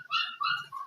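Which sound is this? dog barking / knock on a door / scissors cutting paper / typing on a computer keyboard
dog barking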